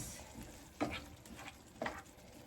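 Seasoned meat stirred in a skillet, coated in its own seasoning juices, with a steady low sizzle and two distinct scraping stirs about a second apart, close and moderately loud.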